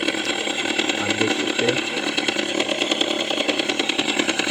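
The vintage mode on an Ola electric scooter running Move OS 3.0 plays a simulated old-scooter engine sound, a steady, buzzing, idling putter that stays close and loud throughout, while someone speaks briefly over it.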